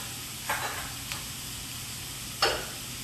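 Tomato paste stirred into a sizzling creamy chicken pasta sauce with sun-dried tomatoes, a steady low sizzle broken by three short scraping stir strokes, the last one loudest, with no talking.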